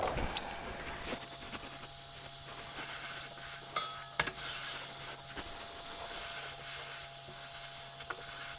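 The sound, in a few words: ingredients toasting in olive oil with seasoning in a pan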